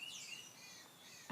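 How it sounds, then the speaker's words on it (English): Birds chirping outdoors in early spring, a few faint high tweets and trills over quiet background, brief and distant-sounding. "I'm going to compete with the birds because it's almost spring"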